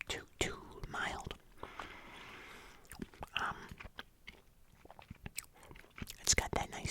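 Close, intimate gum chewing with wet smacks and soft crunches in an irregular rhythm, interspersed with whispered talking.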